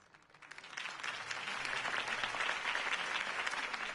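A large crowd applauds in a video game, swelling from quiet to a sustained, dense roar of clapping that holds steady to the end.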